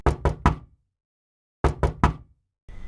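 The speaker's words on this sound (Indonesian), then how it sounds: "Seruan kedua diiringi dengan suara ketuk pintu pun kembali terdengar." Knuckles rap a door in two sets of three sharp, loud knocks separated by a short silence, each rap close and hard, with a faint rustle starting at the end.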